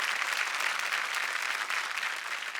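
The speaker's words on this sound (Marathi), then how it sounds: "जोरदार टाळ्या झाल्या पाहिजे त्यांच्यासाठी." Studio audience applause on a Marathi TV game show, a dense, steady clapping that holds at an even level throughout with no talk over it.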